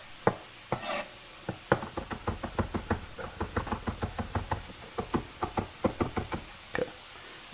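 Garlic cloves are chopped with a knife on a board in quick, irregular knocks, a few dozen sharp close taps at a steady working pace.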